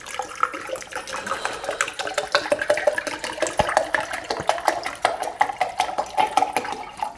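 Water pouring into a shaker cup for a pre-workout drink mixed before a cardio session, a steady splashing trickle running throughout at close range.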